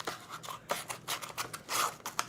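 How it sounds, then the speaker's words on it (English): Scissors snip through a vinyl sheet in a run of short, close crisp cuts with brief pauses between them, no voices. "I'm going to take some scissors,"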